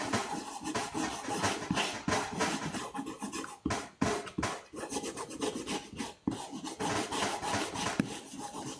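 Glue-coated paper pattern being rubbed firmly onto a wooden board before carving, a close, continuous raspy scrubbing with repeated back-and-forth strokes and a few brief pauses, with no talk.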